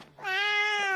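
A single clear cat meow, rising then drawn out and falling, close and loud for about a second with nothing else around it.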